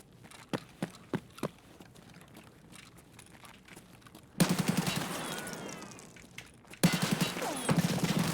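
Bursts of gunfire in Escape from Tarkov: a few sharp separate shots early on, then two long loud volleys of rapid automatic fire close by, with no talking.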